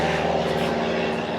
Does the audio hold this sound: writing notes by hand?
no